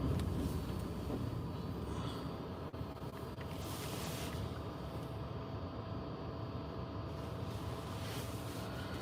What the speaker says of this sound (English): We're just driving.